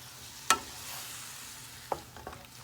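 Beef and broccoli in teriyaki sauce sizzle softly in a pan while a utensil clinks and scrapes through it, with one sharp tap followed by a few lighter stirring knocks.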